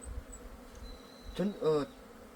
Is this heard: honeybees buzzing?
yes